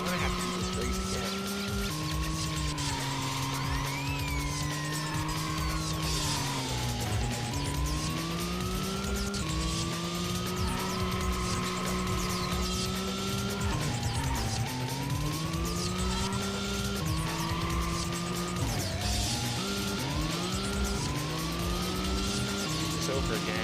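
Race car engines in Racing Lagoon roaring continuously with rising and falling pitch through repeated gear shifts and revs, loud and close, with tire and road noise layered in and talk occurring over parts of it.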